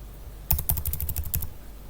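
Quick run of crisp computer keyboard keystrokes, about a dozen close-up taps while an Excel formula is typed, after a short quiet lead-in.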